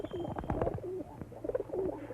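Pigeon cooing in repeated soft, throaty rolls, fairly close and moderately loud, with a few faint background sounds and no talking.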